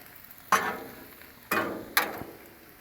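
Sausage cooking on a Blackstone griddle gives a faint, steady sizzle, broken by three sharp clanks of metal on the cooktop.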